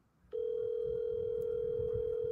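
A telephone dial tone switches on suddenly and holds as a steady, unbroken hum, clear and close, with faint low background noise beneath it.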